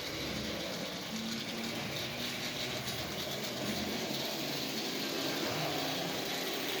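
An antique Marx double reduction toy train motor runs with a steady, unbroken mechanical whir and rumble, close and fairly loud, with no voices.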